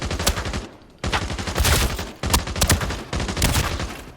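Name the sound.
assault rifle hip fire in video game Arena Breakout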